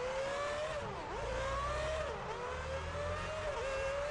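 Formula 1 race cars at Suzuka in F1 Championship Edition, a steady high engine whine with rising and dipping revs through gear changes over a low rumble, loud and continuous, with no talk.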